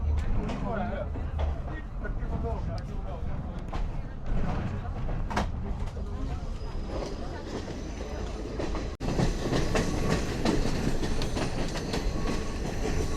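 A train on the scenic Ella railway route in Sri Lanka, passing small stations, rumbles and rattles continuously for several seconds, with clacking wheels, a sharper burst of noise partway through and some faint voices underneath.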